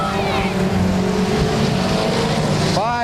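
Race cars roar around the Claremont Speedway oval during weekly racing, engines droning together close by, one pitch sweeping upward at the end, under a commentator's voice.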